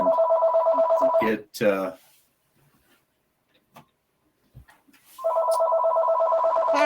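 A phone rings with a steady electronic trill, breaks off as a voice speaks briefly, then after a quiet gap resumes ringing loud and close.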